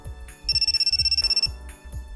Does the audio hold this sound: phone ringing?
yes